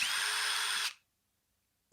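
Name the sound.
DeWalt 20-volt max drill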